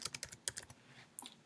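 Clicks of typing on a computer keyboard while entering text into a PowerPoint slide in Office 365, a quick irregular run of sharp, close keystrokes with a short pause before a final tap.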